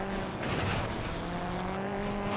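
A turbocharged rally car engine in WRC 3 on the PS2, racing an Argentina stage, holds a loud, steady high-revving drone that climbs slowly in pitch, with faint tyre noise underneath.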